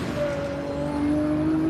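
Turbocharged hill climb race car of about 900 horsepower at a King of the Hill event, its engine droning loud and close with steady whining tones that climb in pitch, no talk.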